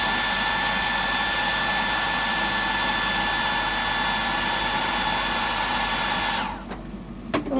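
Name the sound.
hair dryer drying paint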